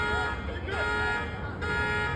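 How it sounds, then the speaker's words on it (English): Several car alarms blare at once, steady wailing tones with a pitch sweep partway through, loud and continuous over a rumbling background. "All the car alarms going off."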